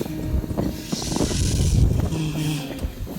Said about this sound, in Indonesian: Angin begitu.